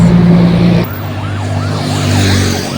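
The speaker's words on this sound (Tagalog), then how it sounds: "Pero emergency, meron dalawang ambulance na yung dumaan" Two ambulances pass along an urban road in Davao City, a loud wash of vehicle noise with a wavering siren tone sweeping up and down as they go by, no talk.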